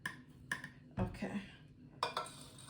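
Spoon stirring overnight oats in a dish, a few short scraping clinks against the container in quick bursts, close and fairly quiet.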